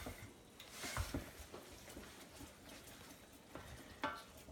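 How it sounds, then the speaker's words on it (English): A chocolate oatmeal cookie mixture heats toward a rolling boil in a pan, with a soft bubbling sizzle and intermittent spoon stirring and scraping against the pan, close but quiet, with no talking. "Almost at a rolling boil"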